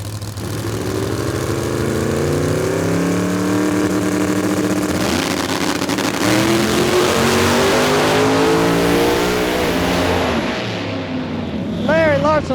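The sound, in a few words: drag racing cars making a pass down the track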